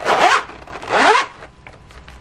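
Zipper being pulled open on a stiff pencil case, two loud rasping zips in quick succession at close range, followed by fainter handling rustles.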